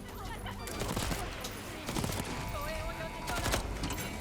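Gunfire in the first-person shooter video game Deathloop: sharp shots in quick bursts spread across the clip, mixed with other game sound effects at fairly low volume.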